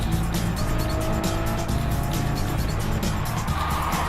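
Race cars in a 600 and 640 class series pound past on a track, engines roaring loudly and continuously with a tyre squeal as they run close together.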